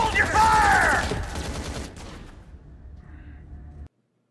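Gunfire in a TV space drama bursts out as a loud, dense volley of shots, then fades into a lower rumbling tail before cutting off.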